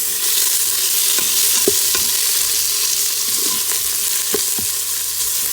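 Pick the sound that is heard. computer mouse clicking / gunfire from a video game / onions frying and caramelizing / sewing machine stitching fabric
onions frying and caramelizing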